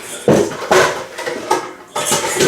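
Ceramic dishes clatter in a home kitchen as a bowl is pulled from a stack during pizza prep, with several sharp knocks and scrapes spaced irregularly, close and fairly loud.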